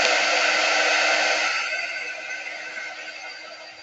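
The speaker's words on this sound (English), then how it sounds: "I'm just going to heat it up with my quick dry tool" A quick dry heat tool blows hot air onto dry wax, a loud steady whooshing roar that gradually fades over several seconds with no talk.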